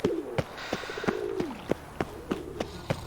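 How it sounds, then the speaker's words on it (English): Pigeons coo repeatedly in The Witcher 3 game world, their soft warbling calls close and clear, broken up by regular thudding footsteps running across the ground. "Big ass pigeons, what the fuck?"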